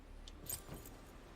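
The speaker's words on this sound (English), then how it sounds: "Keys. What are the keys for again?" A few quick, faint jingles of a bunch of keys being handled close by, bright metallic rattles lasting only a moment against a quiet background.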